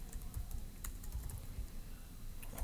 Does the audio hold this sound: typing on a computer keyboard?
yes